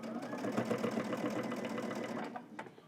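A sewing machine stitches in the ditch along the seam of a zipper hoodie, running in a fast, steady mechanical patter before slowing and stopping near the end.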